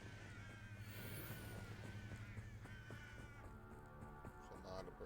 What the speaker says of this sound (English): There's a lot of birds.